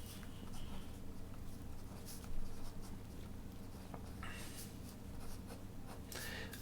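A pen scratches across paper while a graph of average binding energy against nucleon number is sketched, producing soft, close, irregular strokes with brief pauses and a few sharper scrapes toward the end.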